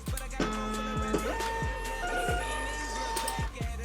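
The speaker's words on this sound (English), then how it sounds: "So the label printer has printed off the first one." Label printer feeding out a shipping label, a close, faint mechanical whirring with repeated short sweeping motor sounds and clicks over low background hum.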